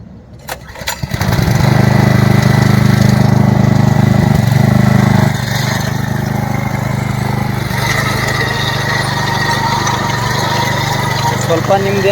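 A single chain cultivator's small engine pulled into life, catching with a few sputters and then running at a steady loud drone that eases slightly partway through, close by.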